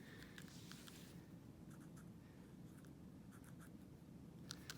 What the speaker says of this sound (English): you're going to write it on the tape